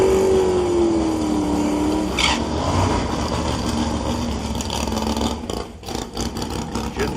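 A big block AAR Cuda drag car at a Drag Week event rumbles loud and close, its engine note sliding down as it rolls through the staging area, then a rough, throbbing idle with bursts of revving.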